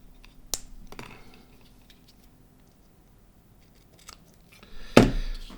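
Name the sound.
cutting with scissors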